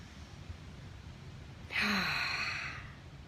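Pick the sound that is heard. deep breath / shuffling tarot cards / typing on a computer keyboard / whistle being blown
deep breath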